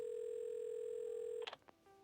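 A video game telephone gives a steady dial tone that holds for about a second and a half, then cuts off with a short click and a few faint button or handset noises, with no voices.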